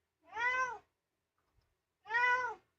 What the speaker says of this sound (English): The cat's got his own opinions.